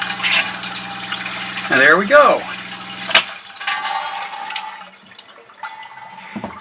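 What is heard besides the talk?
pumping pink antifreeze through RV water lines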